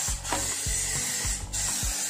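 Cold spray bursts from an upturned aerosol can onto a Vespa engine bearing in short hissing blasts, with a faint clicking between them, close and fairly quiet.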